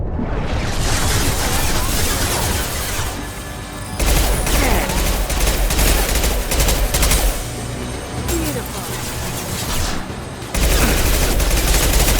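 Rapid automatic gunfire and bursts from a firefight in Mass Effect 2 Legendary Edition, dense and loud with brief pauses between long volleys.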